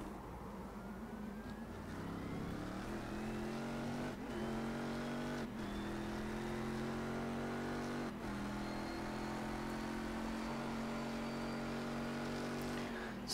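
Race car engines in the sim racing game iRacing scream at high revs in a close battle, with a steady sustained whine broken by quick gear-shift dips and tire noise throughout.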